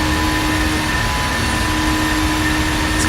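Steady, loud roar of Boeing 737-800 jet engines in Flight Simulator X, a continuous broadband drone with a faint tonal whine running unbroken from start to end, no voices.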